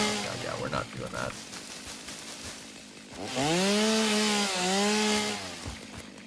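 A chainsaw in the game Satisfactory cuts with a rising, wavering whine that holds for a few seconds, following rough rustling and scraping, with voices chatting over it.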